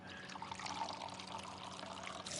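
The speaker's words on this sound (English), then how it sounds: "You're pouring scalding hot tea all over me." Hot tea pours from a pot in the Ace Attorney video game, a soft continuous trickle of liquid splashing quietly for a couple of seconds.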